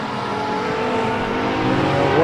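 Hobby stock race cars roar around a dirt oval during a feature race, a loud, close engine drone that swells as a car draws nearer and rises in pitch toward the end.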